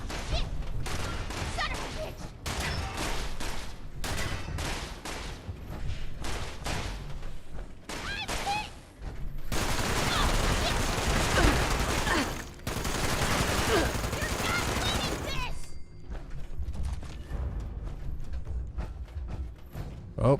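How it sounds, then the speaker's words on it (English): Gunfire in Fallout 76 comes in dense bursts and rapid fusillades, with heavy sustained volleys in the middle, loud and close, and speech may be mixed in. "somebody's shooting at Marcia"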